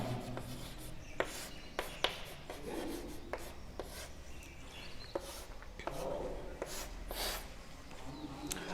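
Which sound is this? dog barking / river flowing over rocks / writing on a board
writing on a board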